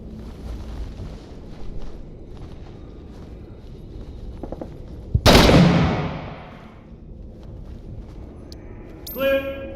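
A single loud, close gunshot with a long decaying boom in a shooter video game, set among quieter clatter and game sounds, with speech around it.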